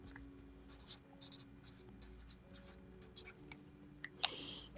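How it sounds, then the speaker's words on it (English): Pen scratching on paper as a customer's yardage order is written down at a quilt shop fabric sale, short soft strokes close by with a brief louder scrape near the end. "We'll go ahead and write you down for one"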